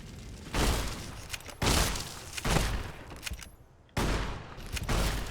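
Gunfire from Fallout: New Vegas while shooting at ants, with a run of four or five loud, sharp shots spaced about a second apart, each trailing off into a short decay.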